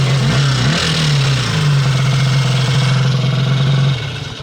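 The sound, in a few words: race snowmobile clutch noise, maybe cover hitting the belt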